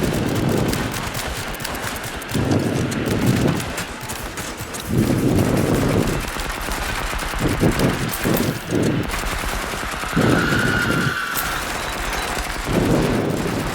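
Rapid bursts of gunfire from a regular gun in a VR horror game, loud and continuous with repeated volleys and dense rattling over a steady background.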